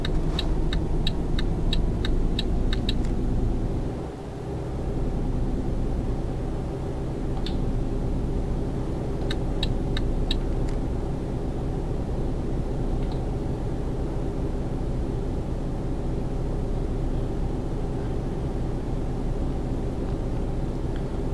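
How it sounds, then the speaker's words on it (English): A truck with no trailer drives in Euro Truck Simulator 2, its engine a loud, steady drone that holds for the whole stretch, with occasional sharp clicking ticks from the cab. "There is something very enjoyable about driving a truck with no trailer."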